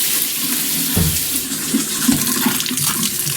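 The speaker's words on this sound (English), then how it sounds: "Now we want to make sure that the hot tap stays on a little longer" A hot water tap on a newly plumbed utility sink faucet runs steadily while trapped air sputters and gurgles through the line, with a few low bursts and spits rising over the continuous close-up rush of water.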